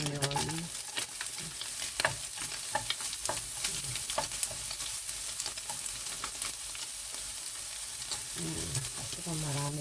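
Onion and ground meat for lumpia shanghai sizzle steadily in hot oil in a pan, with repeated close scraping strokes of a spatula stirring throughout.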